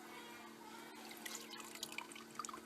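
Water is tipped out of a gold pan, trickling and dripping softly in short splashes and faint droplets over a quiet background hiss.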